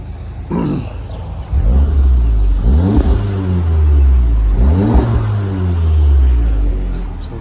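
A 2016 Audi S3 Premium Plus with AWE exhaust and APR software starts with a crank and then revs repeatedly, three or four rising growling blips over a loud idle, close by.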